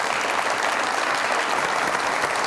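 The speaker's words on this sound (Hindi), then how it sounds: "बहुत सारी तालियां इनके लिए।" A studio audience on a Pakistani comedy talk show claps loudly and continuously, a dense, even burst of applause close by with no voices over it.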